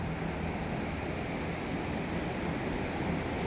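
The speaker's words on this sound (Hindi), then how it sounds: "ये है सिंध नदी जो जाती है पाकिस्तान को" The Sindh river flowing at Kangan in Kashmir, a steady broadband rush of water that holds at an even level throughout with no pauses.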